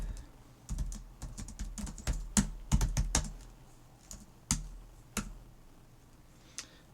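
Irregular bursts of keystrokes on a computer keyboard as code is typed, close and fairly quiet, with short pauses between clusters of clicks.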